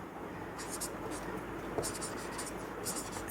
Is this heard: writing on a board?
yes